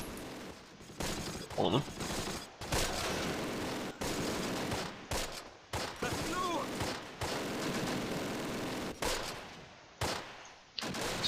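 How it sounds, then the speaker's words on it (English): Enemy machine gun fire in the Close Combat: Last Stand Arnhem war game, sustained rattling bursts broken by brief gaps, loud and steady through the stretch, with a voice speaking briefly over it. "considering the amount of MGs that they're firing at us"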